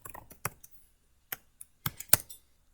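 Typing on a computer keyboard, a few scattered sharp key clicks in small bursts with pauses between, close and fairly quiet, no talk.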